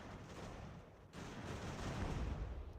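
Enemy artillery fire in Ultimate General: American Revolution, a dense run of booming, crackling blasts that keeps going, dipping briefly near one second, then swelling louder and heavier, with no voices.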